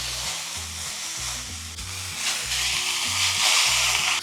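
A porterhouse steak sears loudly in a hot pan under a weight, with steady frying sizzle throughout and a rhythmic low thumping pulse beneath, growing slightly louder toward the end.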